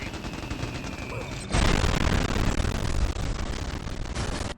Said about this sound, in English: Those are surgical airstrikes, right?